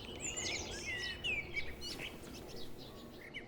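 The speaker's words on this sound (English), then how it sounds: "A blackbird is also out to impress." A blackbird sings in a spring garden during the breeding season, fluting, warbling phrases against a faint outdoor background, with no voices.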